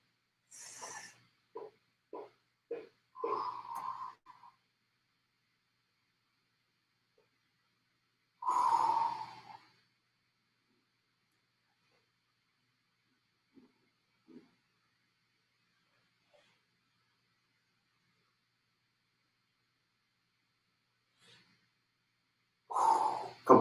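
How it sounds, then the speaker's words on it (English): Heavy workout breathing during glute exercises: a cluster of short puffs, then loud sighing exhales spaced far apart with near-silence between, close to the mic and without speech. "You breathe in on the way down. Breathe out on the way up."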